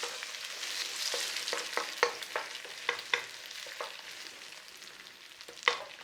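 Cracked eggs frying in a pan for egg fried rice, a soft continuous sizzle with scattered sharp pops and crackles, close and fairly quiet, no voices.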